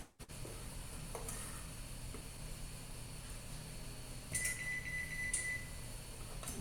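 A kitchen oven sounds a short electronic beep to signal it has finished preheating to 400 degrees, a thin tone that stands out over a steady background hum and faint sizzling from the stovetop.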